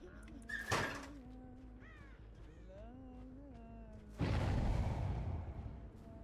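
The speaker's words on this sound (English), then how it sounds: "I want to get away from the crow notification." A crow-call notification sound caws in a series of short rising calls at moderate level, followed by a louder burst of broad noise near the end.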